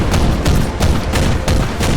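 Loud bursts of sci-fi battle gunfire, Warhammer 40k style cultists firing on Iron Hands Space Marines, crackle in rapid repeated volleys with boomy low-end impacts, close and continuous, no voices over it.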